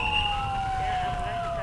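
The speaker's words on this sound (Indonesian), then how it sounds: "nampak ambulan dari puskesmas sudah datang" An ambulance from a community health centre arrives during an evacuation drill. Its siren wails steadily, loud and close, over a rumble of road and engine noise.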